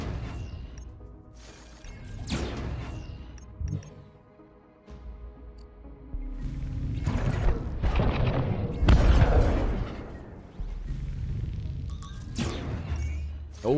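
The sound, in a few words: enemy missile intercepted, explosion in video game Breachway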